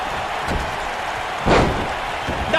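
A wrestler slammed off his feet in WWE 2K19: one heavy thudding impact lands midway through, with a smaller knock at the end, over a steady arena roar.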